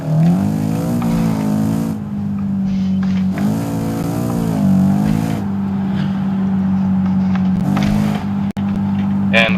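A BMW M5 G90 engine in the BeamNG driving game drones loud and steady, with its pitch climbing and falling through repeated revs and gear changes. A voice talks briefly over it.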